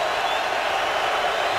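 A football stadium crowd at a Houston Texans versus San Diego Chargers game produces a steady, dense roar of cheering, continuous and uniform throughout the short moment.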